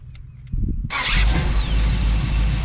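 A 1977 Chevrolet 4x4 engine cranks briefly, then catches and roars into a loud, rough running rumble close by, holding steady to the end.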